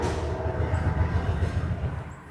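The Pere Marquette passenger train passes close by en route to Chicago, its steady heavy rumble and rhythmic wheel clatter on the rails holding constant throughout, with no talking.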